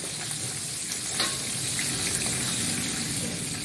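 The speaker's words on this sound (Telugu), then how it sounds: "అలా వేసుకొని మళ్ళీ ఒకసారి కలపాలి. చూడండి పల్లీలు కొంచెం కలర్ చేంజ్ అయినాయి." Peanuts frying in a pan while being stirred, a dense, steady sizzle with faint scraping of the spoon, close and continuous.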